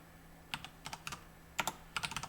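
Quick clusters of key taps on a computer keyboard while setting up character movement code in Unreal Engine, soft and close in a quiet room, arriving in short irregular bursts with brief pauses between them.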